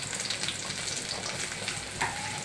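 Sliced onions sizzle steadily in hot oil while being browned for a Bengali chickpea dal, a continuous crackling fry with occasional stirring noises.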